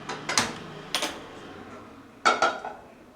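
Metal pan set down on a gas stove while cooking egg bhurji: a few sharp clanks and clatters, two close together early, one single, then a double knock near the end, fairly close with no voices.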